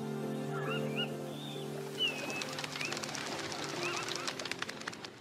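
Migratory birds at Banc d'Arguin in Mauritania call in a few faint, scattered cries and chirps over a steady low hum, distant and quiet.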